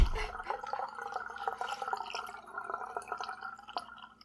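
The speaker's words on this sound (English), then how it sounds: "I'm just going to add some cold water to fill the bottle" Cold water trickling and dripping into a bottle of homemade limoncello to top it up, a close, steady liquid patter with small splashes throughout and no talking.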